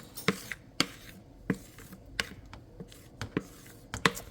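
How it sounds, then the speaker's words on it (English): A spoon scrapes cooked lentils out of a bowl into a pot, making sharp, irregular clicks and taps close by, about a dozen in quick succession, with no talking. "we've got to get all of the lentils out of the bowl and into the pot."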